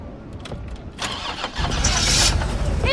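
A car engine cranks with a few stuttering attempts, then catches and settles into a steady, louder running roar close by, with no talk.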